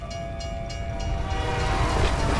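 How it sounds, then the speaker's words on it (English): Subway trains arrive in a station in Black Ops Cold War zombies, a loud continuous rumble and rattle that swells steadily, with a high horn-like tone running through it. "On your first time coming down to the subway, the trains will appear."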